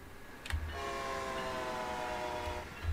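A train in Train Sim World 2's Boston Sprinter route sounds a long, steady multi-tone horn blast, moderately loud over low rumbling, with brief clacks at its start and end.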